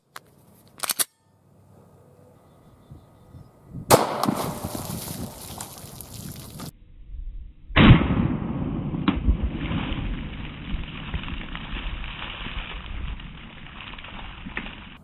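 Pistol shots from 9mm Underwood 124gr Gold Dot ammunition fired outdoors at a pork femur bone target: a couple of sharp loud cracks stand out, followed by a long stretch of wind and ambient noise.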